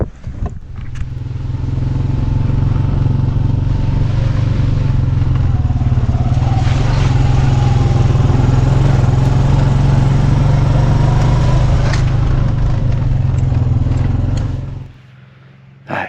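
An old tractor with a big three-point hitch drives out nearby, its steady low engine drone loud and continuous for about fourteen seconds before cutting off.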